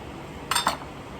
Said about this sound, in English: So from there, what you do is you chop it